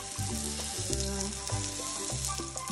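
Cabbage for breakfast fries in a pan, giving a loud, continuous close sizzle with crackling pops and scraping stir sounds throughout.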